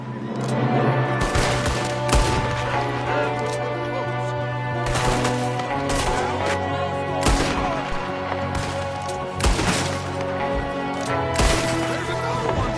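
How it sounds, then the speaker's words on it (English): Gunfire in Red Dead Redemption II during a shootout, with a loud, near-continuous fusillade of overlapping shots and sharp cracks, some heavy reports standing out, against a dense battle din. "There's another one shooting from the window."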